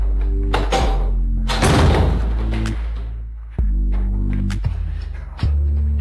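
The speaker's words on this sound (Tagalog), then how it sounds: "Hala, isara mo ang pinto." A door closing indoors, with several loud thuds and knocks over a steady low hum, the impacts spaced irregularly across the scene.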